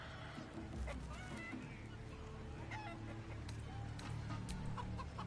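A chicken clucks repeatedly in the video game Baldur's Gate 3, soft, choppy calls scattered across a dense, steady game soundscape.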